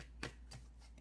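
Tarot cards are drawn and handled in a few soft, quick rustles and flicks, close and faint, with no talking.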